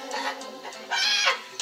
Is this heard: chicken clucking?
yes